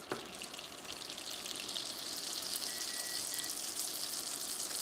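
Butter melting over gentle heat in a pan gives a steady, soft, hissing sizzle that swells slightly and holds evenly throughout, with no voices.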